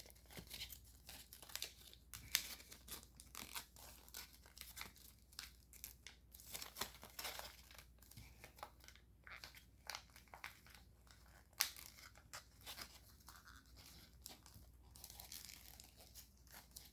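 Paper being squash folded for an origami gunboat: faint, close crinkling and soft crisp creasing rustles in irregular bursts over quiet room tone.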